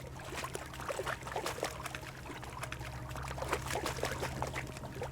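Loud, steady rushing water flows continuously in the video game Kingdom Come Deliverance 2, a dense, unbroken splashing roar with no voices.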